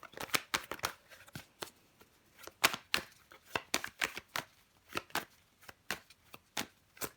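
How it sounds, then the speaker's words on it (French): Tarot cards riffled and flicked down one by one, a run of sharp papery snaps in an uneven rhythm, close and fairly quiet, with no talking. "Je vais recouvrir des cartes."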